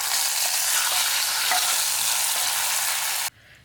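A hot tempering of red chillies and curry leaves poured into sambar sizzles and crackles loudly and steadily for a few seconds, then drops away abruptly to quiet.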